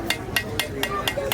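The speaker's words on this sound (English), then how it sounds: "Now you'll notice here I'm doing lots of like light hammer blows." Light hammer blows ring on hot metal at a blacksmith's forge during a Renaissance faire demonstration, six evenly spaced sharp strikes about a quarter second apart, close and moderately loud over a low background murmur.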